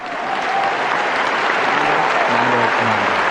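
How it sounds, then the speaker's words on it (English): A crowd breaks into loud, sustained applause at a live clan cast event, with dense clapping close up that swells and holds steady, while faint voices murmur underneath. "Let's get a clap for"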